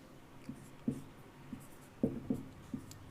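Chalk or marker strokes on a board during a Hindi language lesson, a series of short scratchy taps and scrapes in irregular rhythm, close and fairly quiet with no speech over them.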